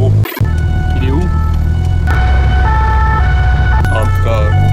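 Fire brigade siren wailing through traffic in Toulon, rising and falling tones over rumbling engines and road noise, fairly close and loud, with a brief cut near the start.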